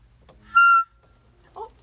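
Clarinet sounds a single short note E, clear and close, held for about a quarter second before fading; a faint brief vocal murmur follows.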